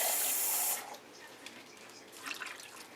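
Water poured from a tap into a pot of venison osso bucco with vegetables, a loud rushing stream for under a second, then faint trickles and small splashes as it settles.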